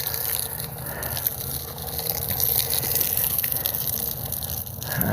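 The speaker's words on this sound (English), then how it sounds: "it's actually pushing water in there now" Water is pushed steadily into a Miracle-Gro fertilizer feeder in a home garden, a continuous close gushing, hissing flow that holds evenly throughout with faint bubbling and no speech.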